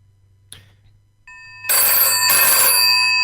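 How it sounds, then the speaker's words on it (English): A telephone rings indoors, starting with a brief tone and then swelling into a loud, sustained electronic ring that continues to the end without speech. "Oh, the phone's ringing."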